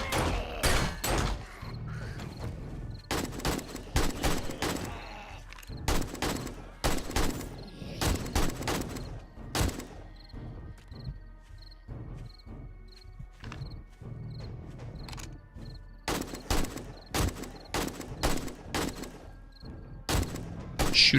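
Gunfire in the video game 7 Days To Die: sharp, loud shots fired in rapid irregular bursts with brief pauses between them, continuing throughout.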